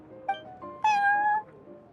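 A cat meows in Genshin Impact: a short chirp followed by a longer, clear drawn-out meow, close and alone over faint background hum.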